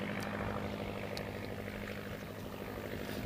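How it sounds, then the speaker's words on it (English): World War I Curtiss Jenny biplane with a water-cooled OX engine taking off at an antique fly-in airshow, a steady, fairly distant propeller and engine drone that holds evenly throughout. "And there goes our Jenny. Notice how short that airplane lifts off."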